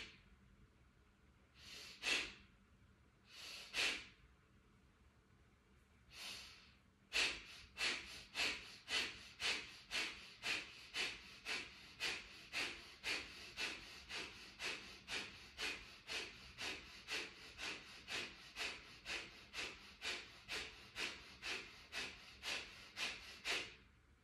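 Forceful abdominal breathing exercise: a few separate sharp exhales, then a long, steady run of about thirty quick, forceful nasal exhales in even rhythm, close and clear.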